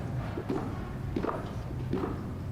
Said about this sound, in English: We can hear the footsteps of VP-elect Harris coming down the stairs from the crypt.